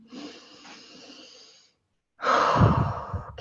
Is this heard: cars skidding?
no